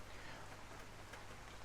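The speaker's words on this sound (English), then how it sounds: "It's raining on the island today, so hopefully it's not too noisy in the background." Steady rain falling outdoors on an island, a continuous fine hiss of drops, even and moderately soft throughout, with no voices.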